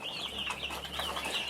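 Broiler table birds on a Cameroon poultry farm, a flock of about 200, chirp in steady high-pitched peeps and soft clucks at low volume beneath a constant hum, with no talking.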